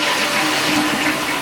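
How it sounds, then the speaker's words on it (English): A toilet flushing in a home bathroom in Ishikawa, Japan, a steady close rush of water that stays loud and even through the whole clip, with no talk over it. "So when you flush the toilet"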